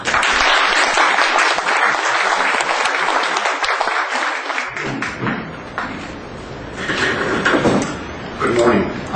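A lecture audience welcoming Professor Eichengreen bursts into loud, sustained applause that fills the room for several seconds, then thins out into scattered claps and murmuring voices.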